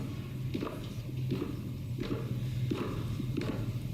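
Footsteps of the Vice President-elect descending stairs from the Capitol crypt at the 2021 inauguration, a steady series of soft, distinct steps at a regular walking pace in a reverberant stone hall, with low room murmur underneath.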